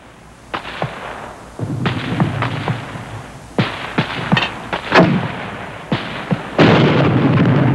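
Mortar rounds fired during a battle, a series of sharp, loud booming reports spaced a second or two apart, some closer and heavier than others, with no talk over them.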